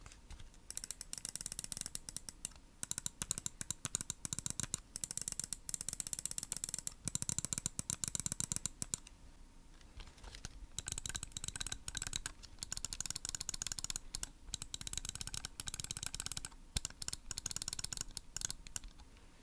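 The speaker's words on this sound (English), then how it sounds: "I'll throw up a sound test right now comparing the sound of the TTC Gold switches on my Model D wireless with the Kailh switches" Rapid mouse button clicks comparing TTC Gold switches on a Glorious Model D wireless with Kailh switches on a Glorious Model O- wireless, crisp, close bursts of fast clicking separated by brief pauses, with no talking.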